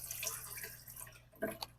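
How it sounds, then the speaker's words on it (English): Water poured out of a black worm culture container: soft splashing and trickling under a faint hum, ending in a couple of brief, sharper drips and splashes. "I'm just going to pour a little bit of water out"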